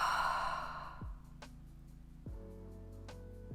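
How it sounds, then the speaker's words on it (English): A long audible exhale through the mouth during a morning yoga flow, a soft breathy sigh fading out over the first second under a quiet background tone, then a fainter breath later. "Exhale through the mouth."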